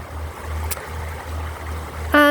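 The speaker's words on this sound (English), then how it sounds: "The sound of Mock Tree Brook babbling away down below me." Mock Tree Brook babbles steadily below a listener in the woods, a continuous low water rush that runs throughout, with a brief sharp tonal chime cutting in at the very end.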